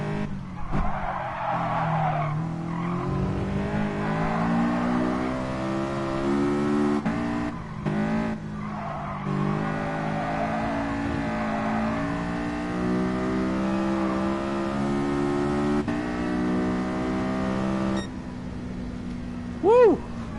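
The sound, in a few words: race car engine and tire skidding in video game Gran Turismo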